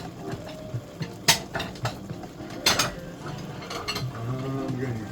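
Ceramic bowls knock and clink against each other as one is picked out for a bowl of super spicy beef instant noodles, with sharp, close knocks and rattles at an uneven pace and a little faint talking.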